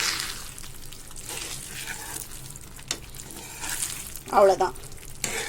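Sago kesari with chopped cardamom being stirred in a pan, a soft continuous sizzle and scraping throughout, with a sharper clatter near the end and a brief spoken word.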